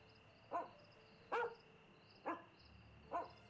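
A dog barks four times in The Testament of Sherlock Holmes video game. The short barks come at an even pace, each about a second apart, over a quiet background with no talking.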